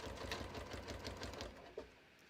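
Sewing machine stitching through a handmade holiday card, a steady rapid needle rattle running continuously up close, then a brief sharp snag near the end.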